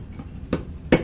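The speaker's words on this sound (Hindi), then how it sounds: "तो हम लोग अभी न्यू वाला को ठोकते हैं, आराम से बैठ जाएगा" On a Bajaj Pulsar, a new ball bearing race is driven into place with two sharp metallic strikes about 0.4 seconds apart. The second is louder than the first, and both ring close and clear over a quiet background.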